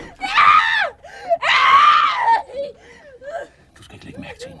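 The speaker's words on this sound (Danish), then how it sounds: "Du skal ikke lægge mærke til hendes skrig." A woman in childbirth lets out two long, loud, strained screams, followed by broken whimpering and sobbing gasps close to the listener.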